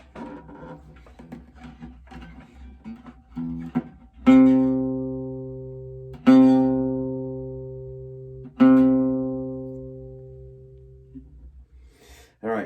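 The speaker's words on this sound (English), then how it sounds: "and if you have a C string," An open C string on an orchestral string instrument rings out low after some quieter bowing, then sounds three times in a row, each stroke starting strongly and fading, heard alone.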